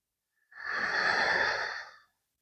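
A single slow, breathy exhale through the throat with lips closed, in a yoga breathing practice, close and airy, lasting about a second and a half against silence.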